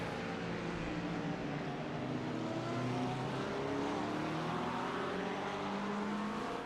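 Several race cars howl around the Barber Motorsports Park circuit in a USRA Pro Division race, engine notes rising and falling as they pass, loud and continuous with no talk.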